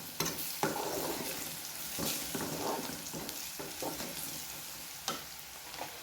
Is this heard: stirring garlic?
yes